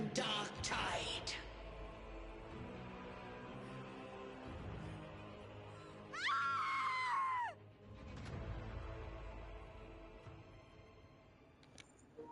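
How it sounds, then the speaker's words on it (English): A scream from a character in the video game Wuthering Waves, a sharp strained cry that rises and cuts off, set among other game voices and a low musical drone. "That was an amazing scream."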